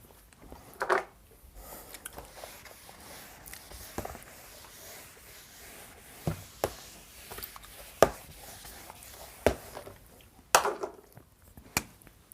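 Chalk or marker taps and scrapes on a board as a physics teacher writes notes in a classroom, sparse irregular clicks and short strokes over a quiet room.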